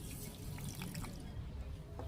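Water trickles and drips into a mix of yellow mustard seeds, poppy seeds and green chillies, a soft, fairly quiet splashing pour with a few brighter drips near the end and no talking.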